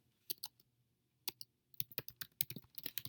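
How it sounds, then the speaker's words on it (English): Someone types an email on a computer keyboard in bursts of crisp, close key clicks, with a short pause before a faster, denser run of keystrokes. "I'm going to type the reason for the email as well"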